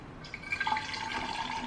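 Water runs from a tap into a water bottle as a steady close trickle, with a faintly rising pitch as the bottle fills.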